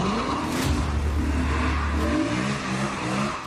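Car engines revving hard on a busy city street in broad daylight as hoons drive recklessly, a loud sustained roar with rising and falling pitch sweeps, close and continuous with no talking.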